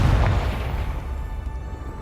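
A deep, booming explosion from the Confringo spell in the video game Hogwarts Legacy, a heavy low rumble that swells and slowly fades over two seconds with no speech.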